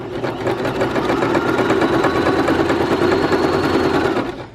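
A sewing machine runs steadily as it stitches slippery ripstop hammock fabric, a continuous close, loud mechanical whir with rapid needle rhythm for about four seconds, then stops.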